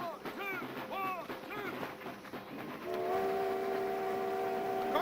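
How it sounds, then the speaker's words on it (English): A train rolls along under shouted voices, then a long steady horn sounds clearly over the rumble. "Tell him to stop that train!"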